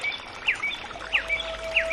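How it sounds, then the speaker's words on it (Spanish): A mockingbird, the cenzontle, sings a few short, bright chirping phrases at a steady pace over faint background hiss, fairly close and clear with no voices. "Amo el canto del censonte, pájaro de 400 voces"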